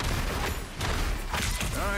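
Punisher firing his guns in the hero shooter Marvel Rivals, a dense continuous barrage of loud gunfire and booms filling the whole moment, with game voices mixed in.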